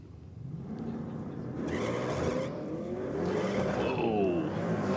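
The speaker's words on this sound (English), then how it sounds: "hazing the tyres for the Holden in the aeroflow lane and then laying into some power further down" A Holden hazing its tyres and then accelerating hard down the lane at a diesel night event, engine roar rising steadily with tyre noise over a continuous crowd-and-track background.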